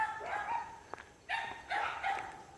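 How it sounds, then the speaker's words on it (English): Dogs barking nearby in a few loud bursts separated by short pauses, with a faint yip in between. "at least it's the other dog who's going crazy"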